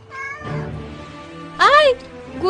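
A cat meows in a few separate cries, the second longer and loudest near the end, with speech mixed in around the calls, close and clear.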